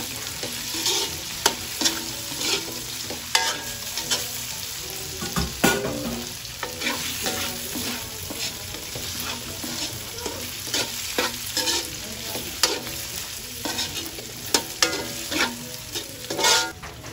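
Longganisa sausage stir-fried in a pan, a steady crackling sizzle throughout with frequent scraping and clacking of a utensil against the pan, close and continuous.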